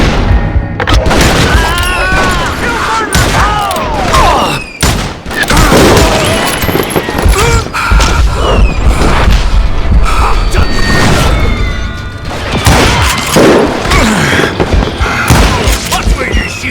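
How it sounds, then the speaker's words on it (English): Dense gunfire and booming blasts in the Western shooter Call of Juarez: Gunslinger, loud and continuous with brief lulls, mixed with shouting voices and crashing impacts. "Watch where you're shooting!"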